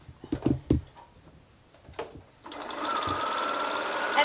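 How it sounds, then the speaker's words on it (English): Paper piecing is sewn along a line on a sewing machine: a few handling knocks and rustles come first, then the motor starts and runs a steady, close whirring stitch to the end. "now I'm going to go sew that again on that line"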